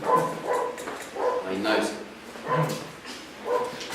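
A dog barks and whimpers in repeated yips at roughly regular intervals, close by, mixed in with a person talking.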